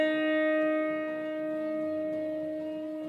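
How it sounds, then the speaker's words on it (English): A single piano note, the D sharp black key above middle C, struck once and left to ring, its bright, steady tone slowly fading over a few seconds with no other sounds. "chosen to play the black key above the original white note D."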